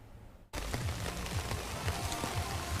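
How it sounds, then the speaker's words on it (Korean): Steady rain falls on a late-summer day in Jeongseon, Gangwon Province, a dense continuous hiss of drops on surfaces that starts abruptly and holds, with a soft rhythmic pulsing underneath. "오늘도 비가 오네요"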